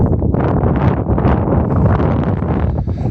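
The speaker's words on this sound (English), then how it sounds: "So I don't imagine much of this will be heard in the wind, but it's on the wind." Steady outdoor wind buffets the microphone, a loud, continuous low rumble with gusty surges throughout and no voices.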